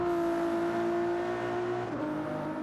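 A Ferrari GT3 race car engine in a racing video game drones steadily at high revs, holding a constant whining pitch before dipping briefly near the end, with no talking.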